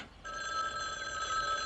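A telephone rings steadily, its bright electronic bell tone starting after a brief quiet moment and continuing close and clear with no voices over it.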